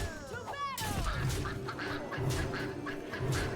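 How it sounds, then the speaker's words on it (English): A cartoonish duck quacks from a Hearthstone card, starting with a short burst of bright rising quacks, then giving way to steady game background music and ambient tones. "Quack, quack, quack."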